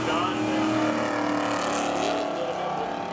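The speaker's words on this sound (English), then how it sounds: "Both cars going way up high on the track for the start." Loud, sustained engine roar as two race cars launch together at the start of a spectator drag race at Seekonk Speedway, with an announcer talking over it.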